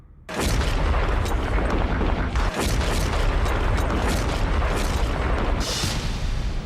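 An Indian Army artillery gun fires near Pangong, a sudden loud boom followed by a long, sustained rumbling roar and echo that fills the whole stretch.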